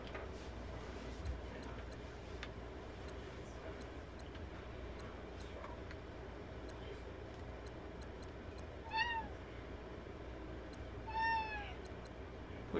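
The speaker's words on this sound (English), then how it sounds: "What you whining for, cat?" A cat meows twice, faint and somewhat distant, two rising-falling cries a couple of seconds apart over a steady fan hum and light ticking.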